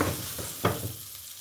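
Duck breast (magret) sizzles in a hot pan, a continuous crackling hiss broken by a few sharp spits and a brief stir, close and moderately loud with no talk.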